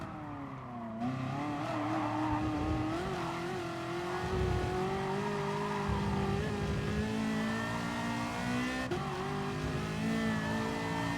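Race car in Gran Turismo Sport, engine droning and revving continuously near and loud, pitch rising and falling through gear changes and corners, with tire noise underneath and no talk.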